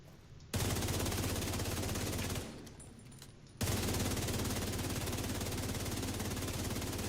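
Sustained automatic gunfire in The Division 2, long continuous rattling bursts that cut in abruptly, pause briefly near the middle, then resume steadily to the end, with no voices over it.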